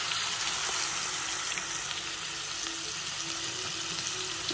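Prawns and masala sizzle steadily in hot garlic oil, a continuous loud crackling fry with faint stirring underneath, no voices present.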